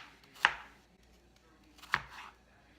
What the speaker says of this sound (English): And now we're just gonna cut these into little pieces